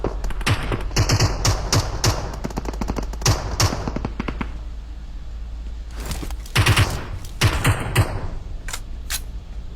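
Rapid automatic gunfire rattles in bursts while bots are gunned down in a shooter video game, with dense volleys near the start, a quieter stretch, then more close, sharp bursts.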